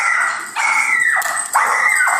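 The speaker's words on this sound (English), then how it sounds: "My dog went ballistic." A dog barking loudly indoors, close by: three long, strained, yelping barks in a row, each sliding downward at the end.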